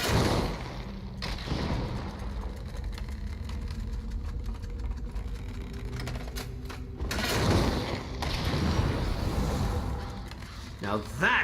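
Ballista bolts launched in Elder Scrolls Online, heavy mechanical thumps and rumbling impacts filling the clip, with loud bursts near the start and again around the middle, over a constant game background.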